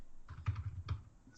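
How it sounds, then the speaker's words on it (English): Fingers tap a computer keyboard in a short, quiet burst of a few soft keystrokes, close to the microphone with no talking. "I'm typing these as we do them"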